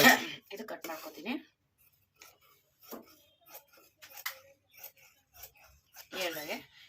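Scissors snipping through blouse fabric, a few faint, scattered clicks and crisp cuts between pauses, with someone talking at the start and end.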